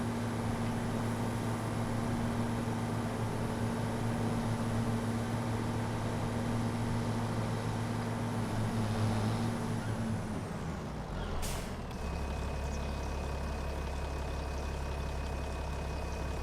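Tractor engine in Farming Simulator 25 droning steadily at speed, a continuous loud mechanical hum that winds down near the end, followed by a short hiss and then a lower idle.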